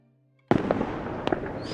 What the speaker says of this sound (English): the New Year's Eve fireworks burst again, suddenly illuminating everything around you